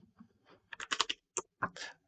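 Fingers tap on a computer keyboard, a quick irregular burst of clicky keystrokes close to the microphone, sparse at first then bunching into rapid runs, with no voice.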